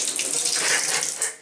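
Hot water gushing from a bathtub tap, a loud, steady close-up splashing hiss that holds throughout and tapers at the very end.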